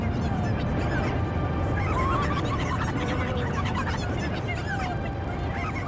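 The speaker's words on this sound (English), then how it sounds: "One of the few interesting instances of a dragon in the game, and my god, the squawking!" A dragon squawking in The Legend of Zelda: Twilight Princess: constant loud, goose-like honking and shrieking cries that overlap densely throughout, with a voice faintly mixed in.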